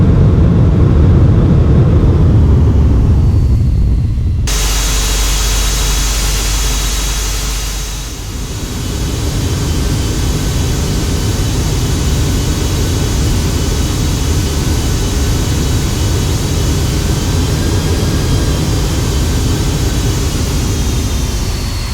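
A Boeing 767 freighter lands at Dubai in the Flight Factor simulator game. A loud continuous engine and airflow roar holds through, with a sudden shift in tone a few seconds in and a brief dip as touchdown nears.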